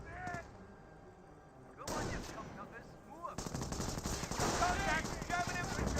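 Gunfire in the strategy video game Company of Heroes, bursts of rifle and machine-gun shots with thuds and explosions, building into dense layered battle noise with a voice over it.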